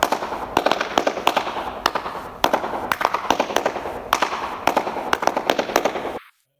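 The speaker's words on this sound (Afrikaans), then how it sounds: "Dit is 'n akoestiese resonator." Sharp, rapid percussive strikes ringing inside the acoustic resonator chamber of a Russian church, each one loud and close and trailing a short reverberant echo, in quick irregular bursts until a sudden stop.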